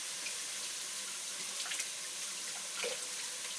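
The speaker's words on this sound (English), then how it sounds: "I've got some celery, which I'm just going to quickly wash." Kitchen tap running steadily into a sink while celery is washed, a constant close splashing water stream with a few brief changes as the stalks pass under it.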